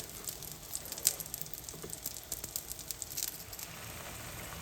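An eggplant and yogurt curry cooks in oil in a pan, giving a continuous sizzle with frequent sharp pops and spatters; no voices.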